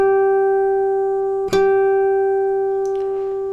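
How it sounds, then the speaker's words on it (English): A single natural harmonic rings on a guitar's G string at the 12th fret, a pure, steady, bell-like tone that sustains throughout with a faint click partway through. "You will hear the difference between a harmonic and a normal note."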